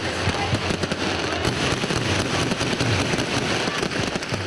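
Dense crackling bursts of celebratory gunfire from many weapons, fired in rapid overlapping volleys that run continuously and loud throughout.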